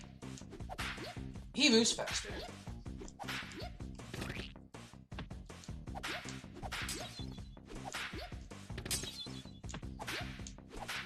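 Repeated whip cracks and thwacks from the Earthworm Jim HD video game on Xbox One as Pete is lashed again and again, sharp hits scattered over game music and steady commentary talk.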